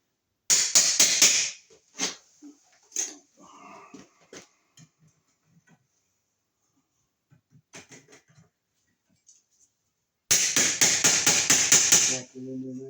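Hammer tapping a Wiremold raceway fitting into place during an outlet install: bursts of rapid sharp metallic taps at the start and end, with scattered knocks and quiet gaps between.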